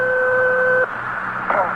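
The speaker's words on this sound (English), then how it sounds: "I think your phone is ringing." Telephone ringing with a steady two-tone electronic ring, loud and close, cutting off abruptly partway through, then a faint brief burst of sound over background hum.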